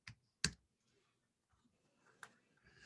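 A few scattered keystrokes on a computer keyboard while searching for online bridge games, sharp isolated clicks with quiet gaps between them, close by with no talking.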